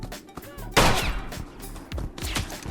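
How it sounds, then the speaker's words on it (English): Gunfire in the video game Misery: a rapid burst of shots followed by a few more cracks, loud and close, with a voice talking underneath. "Oh, we're getting shot at."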